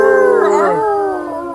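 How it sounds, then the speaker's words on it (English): Rescue dogs in Bali howling together at dinner time, a loud, sustained multi-voiced howl with wavering pitch that gradually tails off. "So that's our rescue dogs in the background, folks."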